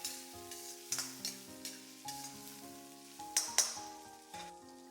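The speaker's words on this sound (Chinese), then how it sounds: "把切好的姜蒜片、小米椒、泡椒圈全部下锅，大火快速翻炒" Sliced ginger and garlic, small chilies and pickled chili rings stir-fried over high heat in a wok, with quiet, rhythmic spatula strikes and sizzle bursts over a tonal musical backdrop.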